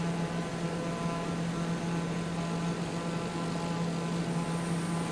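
The TBM 850 turboprop engine drones steadily in flight in Microsoft Flight Simulator, giving an even, continuous hum with a broad airy hiss and no change over the few seconds; no one speaks.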